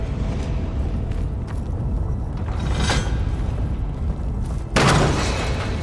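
A ballista bolt fired in Horizon Forbidden West: Burning Shores, a loud booming launch near the end over a steady rumbling game ambience, with fainter thumps earlier.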